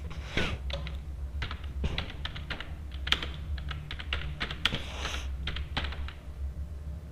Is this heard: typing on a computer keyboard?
yes